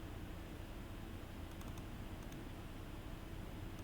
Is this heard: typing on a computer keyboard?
yes